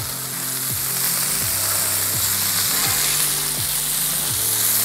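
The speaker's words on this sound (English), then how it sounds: "Let's get these sausages flipped." Sausages sizzle loudly on a Blackstone griddle as they are flipped, the hiss constant and close, with a rhythmic metallic scrape of a spatula about every half second.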